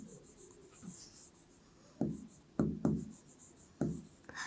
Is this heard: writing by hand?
yes